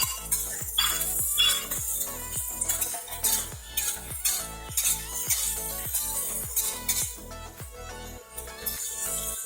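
Vegetables and pineapple are stir-fried in a pan for sweet and sour chicken, with rhythmic clinks and scrapes of a utensil against the pan repeating steadily through a faint sizzle.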